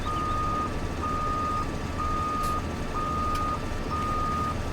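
Steady, evenly spaced reversing beeps from a farm vehicle backing up in Farming Simulator 2017, ringing over a constant engine drone with no talk.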